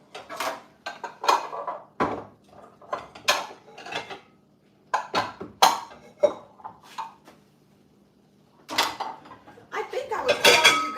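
Dishes and bowls clatter in a home kitchen while canning applesauce, with bursts of clinking, knocking and sliding from a low cupboard, loud and close, separated by brief pauses.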